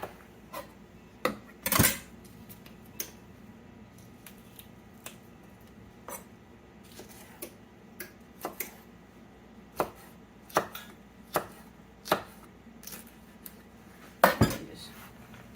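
A knife chops peppers on a cutting board, with sharp, irregular close taps spread across the stretch, a few louder clacks standing out against a quiet room.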